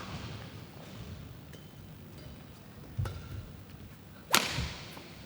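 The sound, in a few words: hard badminton smash caught in the net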